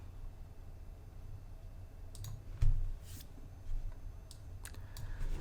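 Computer mouse clicks in Clickteam Fusion 2.5 game-making software, a few sharp, close clicks spaced irregularly over a low steady room hum, with no talking.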